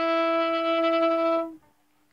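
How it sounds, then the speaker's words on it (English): A violin plays an E on the D string with the first finger on the first tape, one sustained, steady bowed note lasting about a second and a half before stopping, close and alone. "That is the E."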